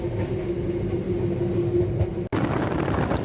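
Tawang Jaya Premium economy-class train running on the rails near Semarang, a steady loud rumble with a low droning hum inside the carriage and a brief dropout near the end.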